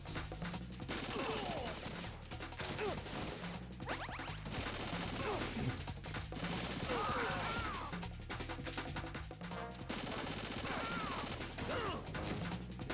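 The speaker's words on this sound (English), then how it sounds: "That's still a shotgun." Shotgun blasts in the video game Metal Gear Solid 2, a series of loud sharp booms and crashes repeating every second or two amid clattering action sounds.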